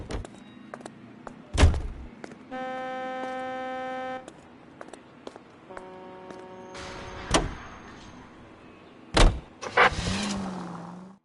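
Car sounds in the video game LA Noire: loud door thunks and slams, a sustained buzzing chime, and an engine starting up at the end, all close and clear.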